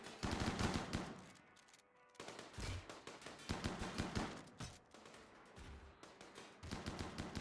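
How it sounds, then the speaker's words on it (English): Rapid bursts of chain shotgun fire in the video game RimWorld, dense rattling volleys that repeat in clusters with brief gaps, loud and continuous across the clip with no talking. "seeing those chain shotguns go off and delete like 800 health"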